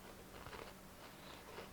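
A small cracker is crunched and chewed close to the mic, several soft crisp bites over quiet background hum, with no voices.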